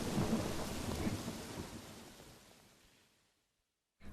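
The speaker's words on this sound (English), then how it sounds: "The storm continued for 20 minutes." A thunderstorm rumbles as a broad, rolling roar with rain-like hiss, loud at first and steadily fading away to near silence before a brief burst of noise at the very end.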